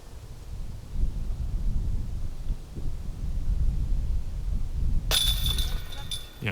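Wind gusting outdoors across a disc golf course, a steady low rumble of buffeting air that persists throughout, with a brighter burst of noise near the end.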